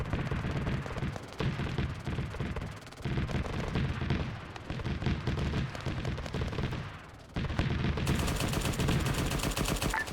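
In the Arma 3 video game, a .50 caliber machine gun fires long, loud, rapid bursts, hammering almost continuously with a few short pauses between volleys.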